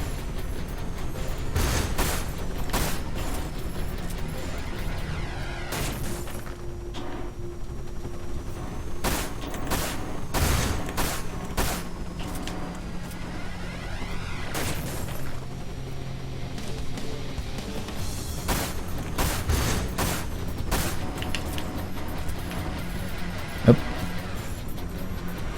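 Rapid gunfire from an upgraded machine gun in a horror-themed shooter game, bursts of loud cracks repeating throughout over a dense layer of game effects and explosions, with a voice talking intermittently.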